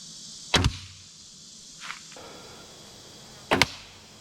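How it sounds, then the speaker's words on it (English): A VPA Omega broadhead-tipped arrow strikes and cracks through bone, three sharp impacts spaced apart, the first and last loud and close, the middle one fainter. "You can hear that bone crack every time the arrow goes in there"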